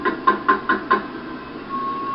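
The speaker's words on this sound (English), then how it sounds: "His thoughts are interrupted by urgent knocking at the door" Five quick, urgent knocks rap on a door in an even rhythm, close and distinct, followed by a brief quiet hum.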